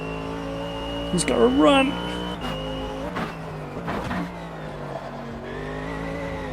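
Race car tyres squeal in the Automobilista 2 racing game at a tight hairpin, a brief wavering screech over a droning engine, with someone talking over the car sounds.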